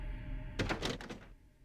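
A locked door in Silent Hill 4: The Room rattles and thunks in a short burst of several quick knocks against a low droning background.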